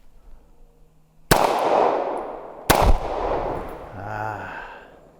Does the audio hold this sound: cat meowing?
no